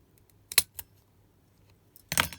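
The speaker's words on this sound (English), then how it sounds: "you're going to cut the regular size hole punch right over it" A hole punch snapping through paper: two quick sharp clicks close together, a quiet pause, then a louder crunching punch, close and with no talking.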